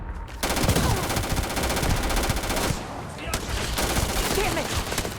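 Rapid automatic gunfire in the sci-fi shooter game Starfield, dense continuous bursts with a short break midway, loud and close, mixed with game noise.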